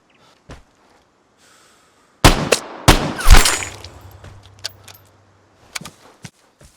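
Gunfire in the online shooter game Vigor: a few sharp, loud shots crack close by in the middle, with fainter single snaps before and after over an otherwise quiet background.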